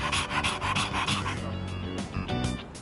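A dog in the game Persona 3 Reload pants rapidly and steadily, close and fairly loud, with quick rhythmic breaths running throughout and no talk.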